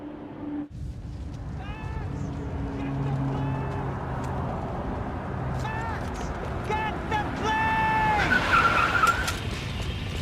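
Car driving and skidding in the video game Need for Speed Payback, a steady engine drone with rising tire squeals and skids toward the end, with voices and game music layered over it.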